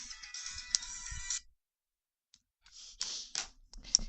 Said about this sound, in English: Hold on, cell phone.